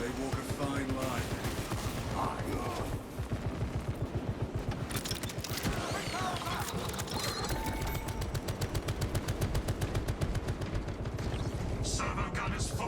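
Servo gun firing in a Warhammer 40K video game, a dense, continuous rattle of rapid automatic shots with heavy booms, mixed with game effects and other sounds throughout.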